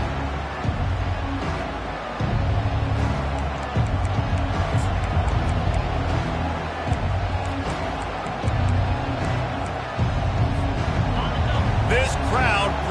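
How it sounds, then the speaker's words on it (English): Stadium crowd roaring steadily as Notre Dame lines up to kick off a college football game, a dense, loud wall of cheering that holds for the whole stretch with play-by-play commentary running over it. "This crowd bringing an ear-splitting welcome to their visitors."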